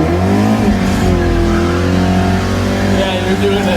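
Engine of a 1979 Volvo 242 GT held at high revs before a launch, a loud steady drone with a slight rise and dip, heard from inside the car.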